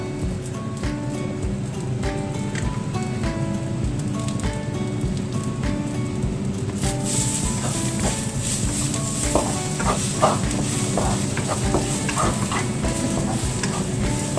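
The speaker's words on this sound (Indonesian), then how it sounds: "Sini numisin bawang. Nah, sini tinggal masukin paprika." Onions and paprika sauté in a pan at home for chicken in sweet spicy soy sauce, giving a steady loud sizzle with scraping stirring throughout, and a brighter crackle building in the second half.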